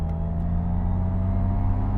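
Dual-motor MG Cyberster of 510 hp with all-wheel drive, heard from inside while driving: a steady low drone and whir holding evenly throughout, with no voices.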